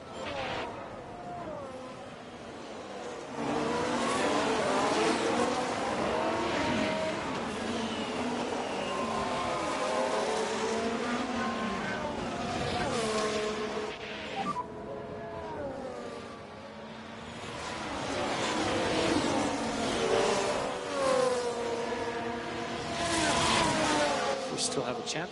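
Formula One cars lapping Imola in F1 Manager 24 sound as a continuous engine whine that rises and falls as they pass, heard under steady talk from commentators.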